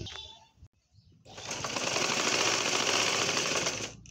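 A sewing machine joins baby frock fabric: after a brief pause it starts up and runs in a steady, fast mechanical whir for about three seconds, fairly close, then stops.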